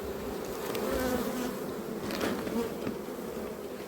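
Dense, continuous buzzing of many honeybees swarming around beehives beside flowering plants, a steady drone with individual bees passing close by.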